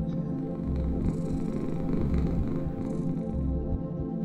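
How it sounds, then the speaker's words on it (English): Cat purring in the pixel-art horror game Lone Survivor, a steady low rumbling purr that continues without a break and sits close and fairly loud over faint background game ambience. "let's see if we can tempt the cat inside"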